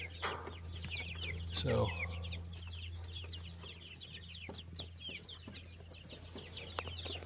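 Young backyard chickens clucking and chirping nearby in a steady chatter of short calls, with a louder squawk early on, a constant low electrical hum beneath, and a brief spoken word.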